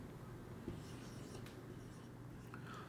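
Faint pen-on-paper writing scratches, soft and intermittent under a steady low room hum.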